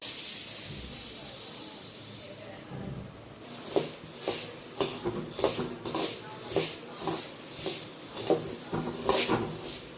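Coriander seeds dry-roasting in a pan for homemade coriander powder, giving a steady hiss with a run of soft rattling, shuffling stirs and light scrapes, close and moderately loud, no talk.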